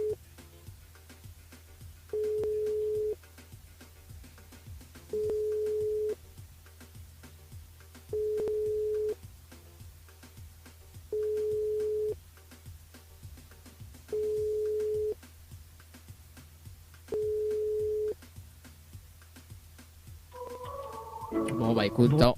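A phone call placed back to a radio show listener rings out with six evenly spaced ringback tones, each about a second long with pauses between, under a faint hum. A burst of noise and a voice come in at the end.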